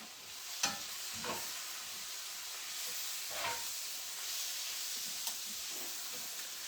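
Golden mushrooms frying in a pan, a steady close sizzle and hiss with a few brief stirring clicks and scrapes, no voices.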